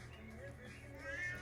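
A pet cat meows briefly and softly near a person talking to it, the call rising over low room noise.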